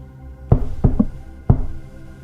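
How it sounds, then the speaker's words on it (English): Four firm knocks on a door land close and loud in an uneven pattern, with two quick raps in the middle and a longer pause before the last one, over quiet background. "Knock."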